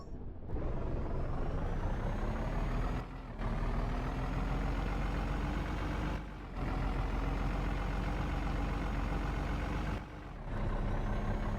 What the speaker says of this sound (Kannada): ಸರಿ ರಿವರ್ಸ್ ತೊಗೊಳೋಣ